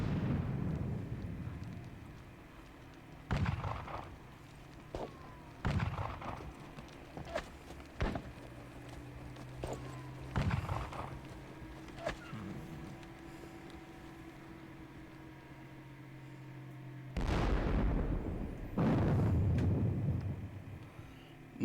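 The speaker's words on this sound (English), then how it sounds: "More Russian guns are on their way up. And they're going to start blasting Mortier's troops" Artillery fire in a Napoleonic wargame of the Battle of Friedland, with Russian guns booming in scattered distant blasts and several heavier rolling volleys near the end over a low ambient battlefield bed.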